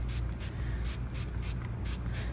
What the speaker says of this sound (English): So I'm going to put a little bit of dampness in. Nice and light spray.